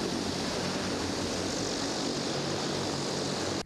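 A propeller airplane carrying paratroopers for a jump exercise in Assini, Côte d'Ivoire, drones loudly and steadily, a dense continuous engine roar from close by that cuts off abruptly at the end.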